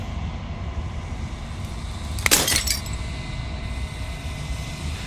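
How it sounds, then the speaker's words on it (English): Glass shatters in a single sharp crash with brief tinkling debris in the video game Slay the Princess, rising out of a steady low ambient drone and fading quickly. "As the final fragment of glass shatters"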